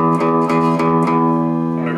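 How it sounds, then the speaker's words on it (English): An open E string on an electric guitar rings out unmuted and loud, sustained and struck repeatedly at an even pace, with no voice over it. "instead of having an open E string sounding like this"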